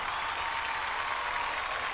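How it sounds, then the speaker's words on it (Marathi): A crowd applauds Bohada folk art performers at Bhandardara in a steady, dense wash of clapping that stays even and loud for a short burst, with no voices standing out. "त्यांच्यासाठी आपण जोरदार टाळ्या वाजवूयात."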